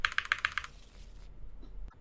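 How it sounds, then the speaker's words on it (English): A deck of game cards is shuffled for a Frosthaven solo scenario: a quick burst of crisp, rapid riffling clicks that stops after half a second, followed by quiet with a faint soft tap. "Let's shuffle our deck back in."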